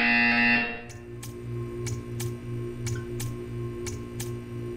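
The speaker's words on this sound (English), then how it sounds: "You will hear a buzzer." A loud electronic buzzer in the video game Portal 2 sounds for under a second, then stops, leaving a steady low hum and a series of regular soft ticks.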